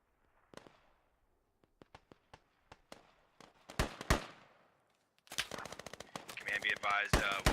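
Gunfire in the military shooter game Squad: isolated sharp shots crack out one by one, then a dense burst of rapid automatic fire with overlapping reports, loud and close, with a voice talking faintly in the background.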